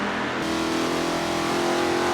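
Race cars at Mugello in Forza Motorsport 7 howl close and loud, a sustained high engine drone that rises steadily in pitch as they accelerate, with no voices.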